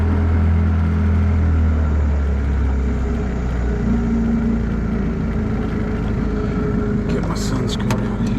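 An outboard boat motor idles steadily on a hot Louisiana freshwater bayou, a continuous low rumble close by, with a few light clicks and knocks near the end.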